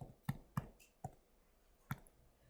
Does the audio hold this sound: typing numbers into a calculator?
yes